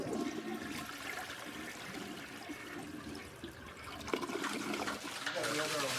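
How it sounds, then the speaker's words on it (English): A toilet upstairs is flushed, and the rushing water and refilling trickle come through the house as a muffled, moderate wash lasting several seconds, with a person talking over it. "The family upstairs just flushed the toilet."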